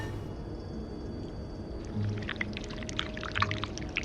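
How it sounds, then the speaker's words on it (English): In a video game, wax pours from a pot in a soft liquid stream that gains small bubbling, trickling detail partway through, over a low ambient hum. "we need to pour the wax from the pot."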